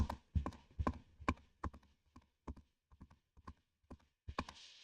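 A person mimics a running horse's hoofbeats with rhythmic clopping taps, about a dozen sharp beats in a loping galloping pattern, close and fairly quiet with no talking.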